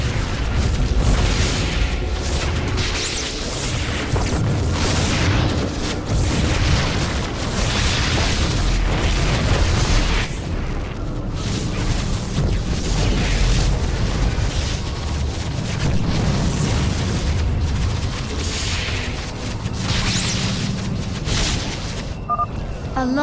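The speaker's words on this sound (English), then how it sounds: "A launch bay has been destroyed." Heavy, continuous explosions rumble and boom in a video game battle as a Protoss launch bay is destroyed, with dense layered blasts and bursts packed together across the whole stretch, loud and close.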